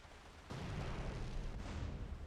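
An explosion in Grand Theft Auto: San Andreas bursts in with a sudden loud broadband roar and keeps rumbling heavily for nearly two seconds, with a second jolt partway through.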